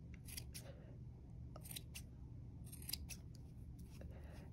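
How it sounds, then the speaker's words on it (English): Scissors trimming the yarn tail of a pom-pom bunny, a rapid series of quiet crisp snips in clusters over a low steady background hum. "So I will cut a little bit more off the edges."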